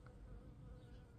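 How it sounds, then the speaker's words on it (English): Faint, continuous buzzing of bees swarming around a blooming wild cherry tree in a spring garden, distant and soft against low outdoor rumble. "the bees are flying everywhere. They go crazy when this wild cherry is in bloom"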